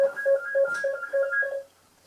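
A telephone rings indoors in a repeated electronic trill, about six short warbling bursts over roughly 1.6 seconds, fairly close and clear, then stops; no talking.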